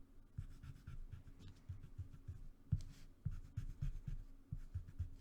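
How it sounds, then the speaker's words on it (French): An eraser rubs pencil lines off a drawing of an elephant on paper, giving soft, quick back-and-forth scrubbing strokes in short bursts, close and quiet. "Je vais gommer un peu certaines extrémités."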